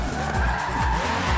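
A car in the Forza racing game drives hard and skids, tires squealing in repeated swooping bursts over a loud, steady engine roar, with no talking.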